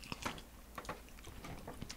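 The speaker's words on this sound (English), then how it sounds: "All I hear is like pickle chewing over the headset right now" Quiet, close crunching and chewing of bread and butter pickles, soft irregular bites picked up over a headset microphone.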